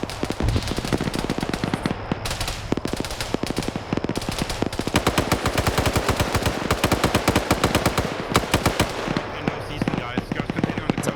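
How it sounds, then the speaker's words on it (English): Rapid, dense gunfire from a marksman rifle and other weapons in a military video game battle during a coastal assault, a loud continuous crackle of shots with a voice talking underneath. "It's a marksman rifle."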